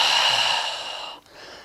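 A long, steady inhale of breath during an archer-style yoga flow, close and soft, tapering off near the end.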